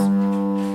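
A single plucked oud G note rings out clearly and sustains briefly, a warm, resonant tone fading slightly at the end.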